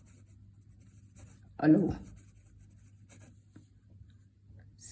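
A pen scratches across paper in one short close stroke during a maths lesson, with a voice speaking briefly before it and a quiet room hum underneath.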